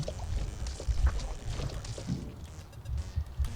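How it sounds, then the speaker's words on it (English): A river of radioactive ooze in Giant Bear Rampage gurgles and sloshes with low, bubbling, liquid pouring sounds, close and uneven over a few seconds. "I have to cross a river of radioactive ooze to get out of the cave"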